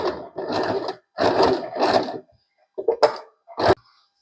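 Usha Janome sewing machine stitching a buttonhole by hand-guided zigzag, heard as several loud bursts of rapid mechanical whirring, two long runs followed by short stops and quick stabs, with silences between.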